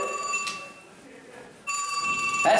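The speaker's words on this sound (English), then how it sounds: "Is that a flip phone?" A flip phone rings in two bright electronic bursts of steady high tones, separated by a short quieter gap, loud and close, with no voices over it.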